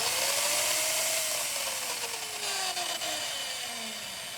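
A freshly greased angle grinder runs steadily at close range, its high whining motor tone drifting slowly lower over a few seconds, with no voices.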